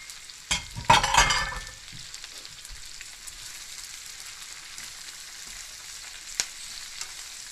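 Cabbage stir-fried in a hot pan for homemade yakisoba, a burst of loud sizzling as it hits the oil, then a steady softer frying crackle with a sharp tap near the end.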